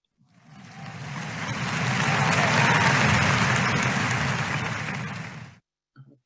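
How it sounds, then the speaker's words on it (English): At a laboratory director's achievement awards ceremony, a hall audience breaks into a full round of applause that swells, holds steady for several seconds, then stops abruptly, followed by a brief murmur. "Let's put a round of applause out again."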